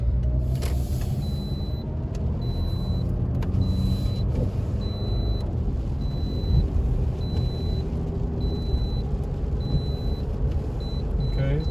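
A Toyota RAV4 with a freshly rebuilt transmission drives up the road, a steady low engine and road rumble filling the cabin, with a few faint clicks and some quiet talk mixed in.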